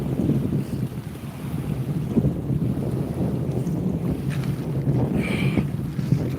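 Steady wind rushing and buffeting across a lakeside spot on a breezy day, with a constant low roar and microphone gusts throughout, faint water lapping beneath and no talking.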